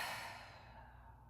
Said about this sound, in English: I want you to just let your body naturally exhale.